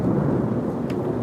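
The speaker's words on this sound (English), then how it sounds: "it's a very loud storm here" Deep rolling thunder from a loud storm rumbles close and heavy, with a dense low roar and the hiss of rain, and no one speaks.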